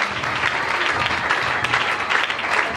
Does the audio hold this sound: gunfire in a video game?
no